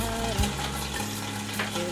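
Pork loin sears in a hot pan while it is turned to brown every side, giving a continuous close sizzle and frying hiss with a brief clunk as the meat shifts.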